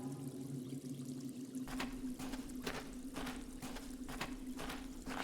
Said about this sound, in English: It's a natural well formed by the running water.